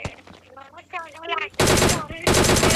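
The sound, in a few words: gunfire from behind in a video game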